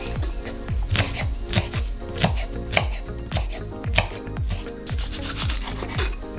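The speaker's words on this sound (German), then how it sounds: "Den weißen Teil der Frühlingszwiebeln hacke ich schön klein" A knife chops the white part of spring onions finely on a cutting board, giving quick, regular, close thuds in a steady rhythm throughout with no talking.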